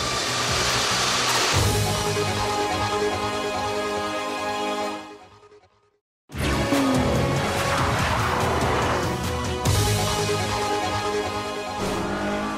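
Heavyweight German sports saloons, a Mercedes and an Audi, driven hard on a test track, engines roaring and revving near, with tyre squeal, a sudden cut to silence, then the engine noise returning loud.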